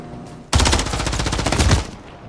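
A sustained burst of rapid automatic gunfire in Call of Duty: Modern Warfare 3, loud and close, lasting about a second and a half before cutting off abruptly.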